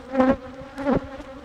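A honeybee colony buzzes close by in two loud, droning swells, with a fainter hum continuing between them.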